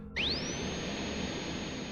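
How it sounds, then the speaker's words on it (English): Drill motor switching on with a sudden whine that rises sharply in pitch, then settles into a steady, sustained high spinning hum over a low background rumble. "after he hit the switch, the drill came to life"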